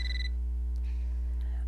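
A telephone rings in a video game, one short electronic ring burst at the start, then fades into a low steady hum with faint tones.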